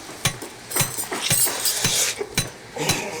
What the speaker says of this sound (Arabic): ايه صوت الدب ده؟ انت بتدوقي كفتة في المطبخ ولا ايه؟